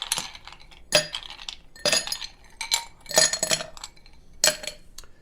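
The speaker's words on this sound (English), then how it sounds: "The first thing we're going to do to make this drink is to fill our Cullen's glass with ice." Ice cubes dropped into a Collins glass for a rum cocktail, several loud close clattering clinks in uneven bursts, each cluster of cubes rattling against the glass and against each other, with no talking.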